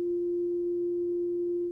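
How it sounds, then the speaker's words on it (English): A pure synthesized sine wave tone holds one steady, clean pitch, continuous and even for nearly two seconds with no other sounds. "go back to the sine wave again"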